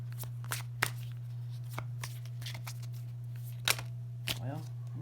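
Tarot cards from a past life deck being shuffled by hand, with a series of short papery riffles and flicks scattered across the clip over a steady low electrical hum and soft room noise.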